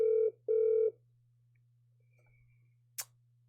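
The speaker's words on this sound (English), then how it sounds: "Had a little phone call interruption there" Two short, steady telephone tones sound close together near the start over a low constant hum, followed after a quiet pause by a single sharp click, as a phone call cuts in.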